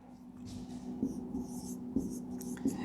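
Marker or chalk scratching across a classroom board during a ninth-grade maths lesson, a steady series of strokes with small taps close by, with a low hum underneath and no talk.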